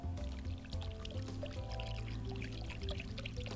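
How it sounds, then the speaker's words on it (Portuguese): Water pours steadily onto melted butter and yeast in a bowl while bread dough is being made, a continuous close splashing stream with faint background hum. "vou colocar a água"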